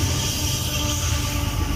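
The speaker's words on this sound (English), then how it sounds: "we're able to catch this train going through" A Union Pacific freight train rolls steadily through near Taggart tunnel on the Evanston Subdivision, a loud continuous rumble with wheel noise and faint squealing, close by.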